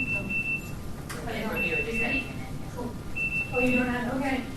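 An electronic timer sounds in two short bursts of high steady beeping beneath ongoing overlapping talk in a room.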